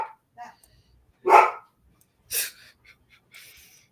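A dog on guard, barking at someone outside, gives one loud bark and then a second, with softer yips and breathy sounds between them, close by.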